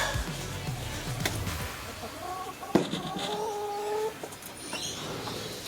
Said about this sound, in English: This is our new chicken, Houdini.